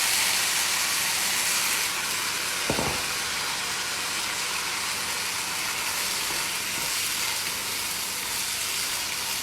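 Onion, tomato and coconut sautéing in a pan, a steady close hiss and sizzle that carries on without a break, with one soft knock partway through.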